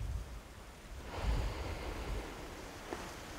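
Waves washing against a seashore under steady wind, a soft continuous broadband roar that swells around the middle, with no voices.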